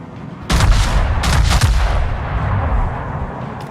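Naval guns on the Ipiranga warship in a video game fire in heavy booming salvos, one sudden blast followed by several more close together, with a long rumbling decay after them.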